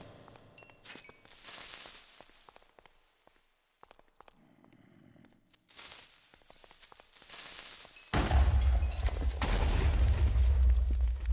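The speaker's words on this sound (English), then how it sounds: "Were there 2 explosions, or was one of those a creeper?" Minecraft creeper explosions: scattered pops and muffled booms, then a sudden loud, sustained blast that roars on to the end.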